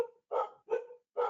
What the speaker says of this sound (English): hopefully you can't hear that barking as loudly as I can hear it